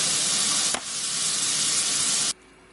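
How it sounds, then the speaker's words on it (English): Breaded zucchini slices sizzle steadily in a pan of light olive oil and butter, a loud, close, continuous hiss with a brief stir midway, cutting off abruptly near the end. "then we're going to saute them in olive oil, but not virgin olive oil, light olive oil and butter"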